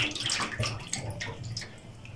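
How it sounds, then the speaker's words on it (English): Sliced arrowroot (nduma) being washed by hand in a basin of water, with continuous sloshing, splashing and rubbing that rises and falls in irregular surges, close and fairly loud. "So the ndumas are ever slimy, so I'll try wash them"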